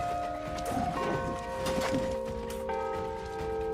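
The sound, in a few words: bell ringing in the video game New World: Aeternum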